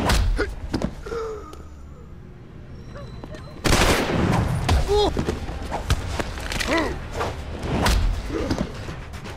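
Gunfire from the video game Deus Ex: Human Revolution crackles in sharp bursts and heavy thuds, with a sudden loud burst midway, mixed with game voices and background action.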